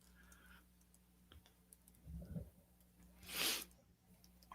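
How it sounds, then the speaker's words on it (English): Someone types on a computer keyboard with faint, scattered key clicks. A few soft taps and one louder rustling burst sit over a low background hum. "I'm just typing"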